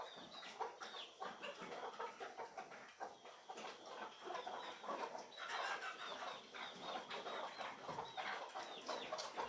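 Chickens cluck and squawk continuously at close range, a busy jumble of overlapping bird calls from a hen with a roughly two-week-old chick, with no talking.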